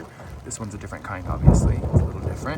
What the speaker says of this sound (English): sorry about the thunder here